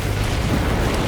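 Deep rumbling blast sealing a hive burrow in Warhammer 40K Space Marine 2, a loud, sustained low roar filling the whole moment with no pause.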